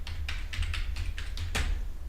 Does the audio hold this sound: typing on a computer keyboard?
yes